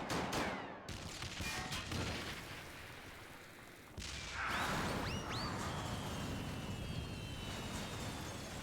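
Gunfire from Final Fantasy XIV aimed at goblins, a dense burst of cracks over the first seconds that then gives way to a steady game bed with whistling tones, loud and close throughout.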